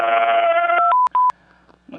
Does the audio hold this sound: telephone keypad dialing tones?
yes